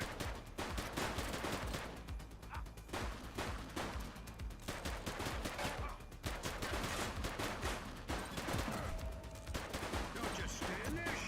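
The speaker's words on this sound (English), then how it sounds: "Shots fired!" Sustained gunfire rattles through a video game police shootout, dense volleys of rapid shots continuing loud and steady for several seconds with brief dips between bursts.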